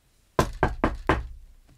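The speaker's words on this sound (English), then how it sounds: "He knocked on the door and asked the old woman for water." Four firm knocks on a wooden door come in a quick, even rhythm, close and crisp, then fade into silence.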